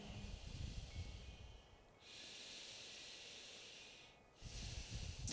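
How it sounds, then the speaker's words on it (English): Slow, deep breaths drawn in and out through the nose during a yoga stretch: a rough, airy exhale, then a long smooth hissing inhale, then another exhale begins. Close and quiet, with no speech. "inhaling and exhaling in and out of the nose"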